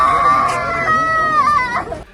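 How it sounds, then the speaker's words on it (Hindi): A grieving mother wails loudly at a hospital after her child's death: one sustained, quavering cry, close and raw, fading out at the end. "अस्पताल परिसर मां की चीत्कार से गूंज उठा"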